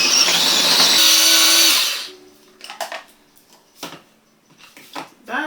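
A blender purees broccoli and mushrooms, a loud, steady motor whir for about two seconds that then cuts off and leaves quiet clattering and handling noises.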